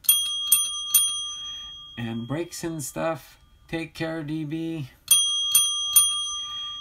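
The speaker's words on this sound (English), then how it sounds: "Those bell ringers are for you guys." A bicycle bell rings in several quick, bright, repeated dings at the start and again at the end, with someone talking between the bursts.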